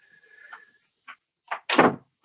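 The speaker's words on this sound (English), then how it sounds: "I'm going to shut the door really fast." A door pushed shut quickly in a home room, heard as a brief latch click, a short rustle, then one solid thud at close range, with a faint steady tone fading out beforehand.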